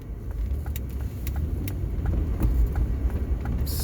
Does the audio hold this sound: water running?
no